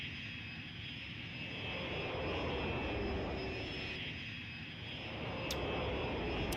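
Jet aircraft engines roar continuously at a military airbase in the game Cities: Skylines, a steady whining drone that swells and eases slightly as planes pass.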